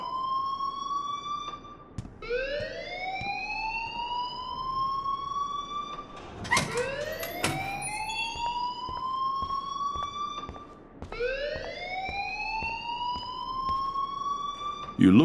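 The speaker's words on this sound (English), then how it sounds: "please turn off that alarm since that's your job" Alarm in the game Life is Strange, a loud rising siren-like wail that repeats several times in long sweeping cycles, with faint voices underneath.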